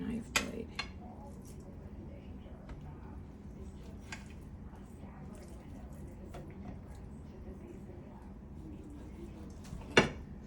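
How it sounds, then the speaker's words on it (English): A knife cutting sausage meat directly on a plate, with scattered faint scrapes and clinks of metal on ceramic over a quiet room, a sharper clink near the start and a loud one near the end. "Should be doing this on a cutting board because it dulls the blade of the knife to cut on the plate."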